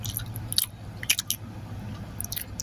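Someone eating chocolate pie with a Hershey's filling, close-up bites and chewing in short bursts of soft crunching and squishing, several distinct clusters over a quiet background.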